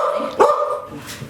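A pet dog gives a single short bark in a home kitchen, close and loud, over a steady background hum.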